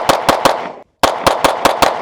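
Jacob Grey Hex pistol fired for a recoil test: two quick strings of sharp, loud shots, three then five, with a brief silent gap between them.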